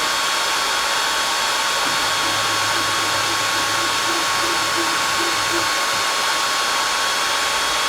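Longer Laser B1 40W laser engraver running a carving job: a constant airy fan whir with faint stepping tones from the moving head, steady and close, with no voices.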